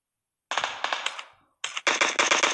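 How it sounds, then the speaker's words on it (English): Rapid automatic gunfire in a competitive video game scrim: after a short silence, a sharp burst of shots fades out, then a second, louder and denser volley follows, close and crisp. "Shots are being fired."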